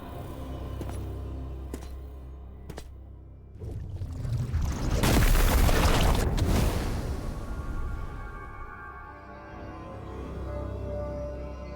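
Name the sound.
explosion in the video game Metroid Prime 4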